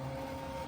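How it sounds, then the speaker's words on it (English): A brief, quiet burst of mechanical whirring from an embroidery machine stitching a hat, with the hat's brim brushing and scratching against the machine. The sound is steady and low, with no talking. "the shaky sound is the brim of my hat brushing against"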